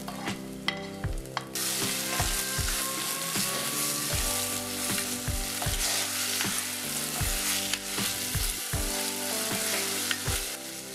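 Onions turning golden with a tablespoon of ground ginger-garlic paste fry in a pan for a Sri Lankan tripe curry, giving a steady sizzle broken by scraping stirs, over background music.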